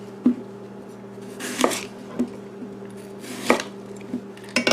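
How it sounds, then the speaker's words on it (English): A knife cutting around the core of an apple on a cutting board, several separate sharp chops and thuds at an irregular pace, close and clear with a steady hum underneath and no speech. "We're going to take our apple and cut around the core real quick."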